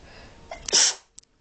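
A single sharp sneeze bursts out close by after a brief breathy intake, followed by a couple of faint clicks and near silence.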